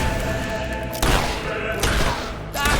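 Gunfire-like magic spell cast in a video game, heard as three loud, sharp bursts about a second apart that punch through a steady, busy game background.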